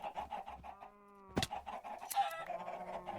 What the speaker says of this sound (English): Because that should just be a chicken,